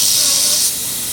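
Airbrush spraying paint on compressed air: a steady, fairly loud high hiss that drops to a softer, lower-pressure hiss partway through.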